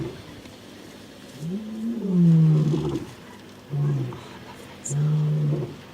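A lion roars at night on safari in the Sabi Sand reserve, a deep, close series of powerful rising roars followed by shorter grunting bursts, loud over the quiet dark bush.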